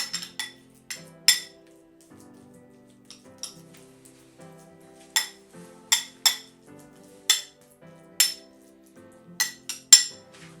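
A metal spoon presses and taps rice down into a bowl for Korean-style omurice, giving close, sharp clinks and knocks in irregular clusters over faint scraping.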